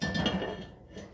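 Metal Dutch oven on a stovetop, clinking and scraping like pots and pans being handled, close and brief, with no talking.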